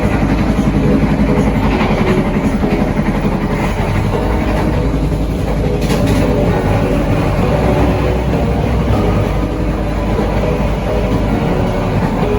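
A Blambangan Express passenger train runs on the rails in Indonesia, a loud continuous rumble with steady rolling and clattering wheel noise close by, no talk.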